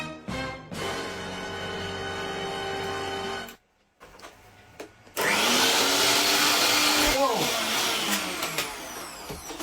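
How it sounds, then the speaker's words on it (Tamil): A kitchen mixer grinder whirs loudly while grinding coconut chutney, starting and stopping, then roaring on with a harsh, dense motor noise after a brief pause. "தேங்காய் சட்னி அரைக்கணும். கிச்சன்ல அரைக்கிறாங்கண்ணா."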